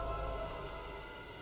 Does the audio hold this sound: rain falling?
yes